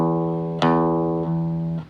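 Single acoustic guitar notes plucked and left ringing, three in a row with a steady decay between each, clear and close with no talking; a 1970s Yamaha FG-75 folk guitar, the low E string quieter than the others.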